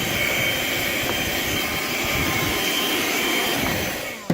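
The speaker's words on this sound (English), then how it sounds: "Don't forget to hoover up any loose particles." Steady, loud whine of a vacuum cleaner hoovering up loose particles inside a car after the windscreen was scraped, running continuously close by with a brief bump at the end.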